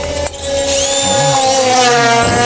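A power drill bores holes in a steel ladder with a sharp new bit, giving a loud, sustained metallic whine that shifts in pitch as the bit bites into the steel, with a brief dip near the start.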